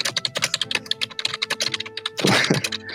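Rapid computer-keyboard typing fills the moment with dense, irregular clicks and taps, ending in a brief louder clatter of keys; no voices are present.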